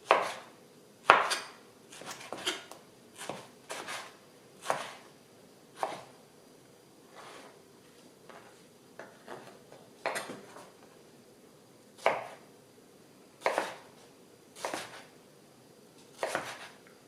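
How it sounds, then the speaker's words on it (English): Knife chopping through mango on a cutting board, a run of crisp, uneven chops that come close together at first and then spread out, each one a sharp thud against the board, with no talking. "So slice them in square."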